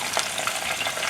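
Shrimp frying in a pan give off a dense, continuous sizzle with bright crackles and pops scattered throughout, close and steady, with no voices.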